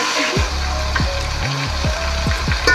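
Garlic ginger paste sizzles in a pot for beef yakhni pulao, a steady close frying hiss broken by repeated sweeping scrapes as it is stirred.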